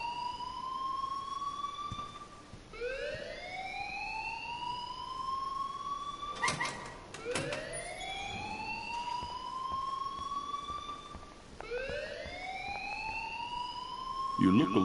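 A repeating electronic alarm wails in the game Life is Strange, each rising tone sweeping up and holding, cycling steadily and loudly with a brief clattering burst partway through.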